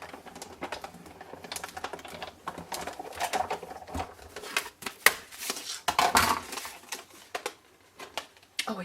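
A manual die cutting machine cranks paper and a die through its rollers, producing rapid irregular clicking and ratcheting taps at close range, in uneven bursts with brief pauses.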